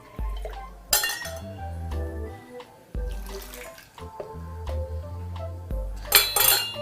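Hot water pours into a glass to preheat it while making V60 pour-over coffee, with splashing, gurgling flow and clinks of glassware in bursts, no talk.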